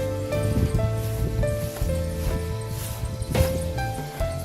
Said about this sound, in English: The wind blowing.